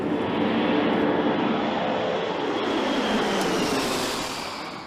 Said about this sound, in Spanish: De Estados Unidos esperan la llegada del mayor avión extintor del mundo, el 747 Evergreen Supertanker